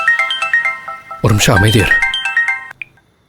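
A phone ringtone plays a bright repeating electronic melody for an incoming call, briefly interrupted by someone speaking over it before the ringing resumes and cuts off.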